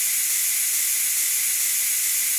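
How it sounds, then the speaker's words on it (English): Steam jets from the vent of a Ninja Foodi pressure cooker in a steady, loud, unbroken hiss, close and alone. "And I'm gonna release the steam."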